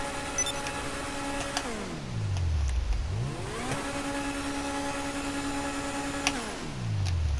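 Koenigsegg Overflod Entity XF engine in GTA Online, with turbo spool and blow-off, revving up in two sweeping climbs that each fall away sharply as the car shifts and the pressure releases, loud and close.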